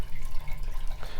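Water draining steadily through a broken toilet flap in a two-story Las Vegas resale home, a close continuous trickling and gurgling wash with no voices.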